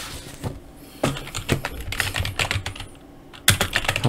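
Rapid clicking keystrokes on a computer keyboard while a chart title is entered, close and clear, coming in uneven bursts with brief pauses between words.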